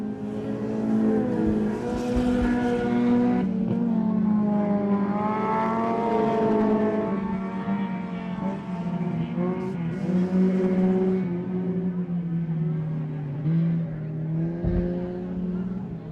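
Late model race cars circling a speedway track, a loud continuous engine roar with rising and falling pitch as the pack drives through the turns, close and unbroken throughout.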